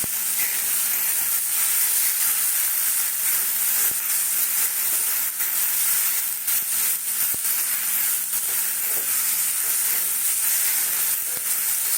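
Peanuts frying in hot oil give a steady, loud sizzle and hiss, close up and unbroken.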